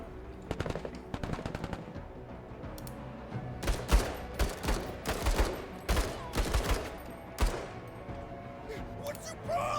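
Gunfire from a mech in the tactical game Menace, with rapid bursts of automatic shots followed by a dense series of heavier, booming impacts and volleys, loud and close, with a voice talking at points.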